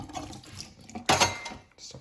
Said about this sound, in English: take the milk jug, just rinse it with water